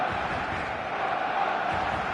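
A packed stadium crowd in the eFootball game gives off a steady, loud, dense roar before kickoff, with rising cheers and whoops and no pause.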